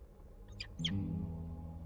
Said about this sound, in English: It was a very nice chirp.